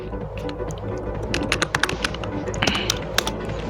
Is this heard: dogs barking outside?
no